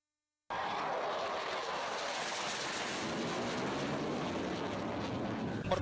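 Military aircraft roar overhead during an Indonesian Air Force firepower exercise at an air weapons range, a loud, broad, continuous engine rush that starts abruptly and holds steady.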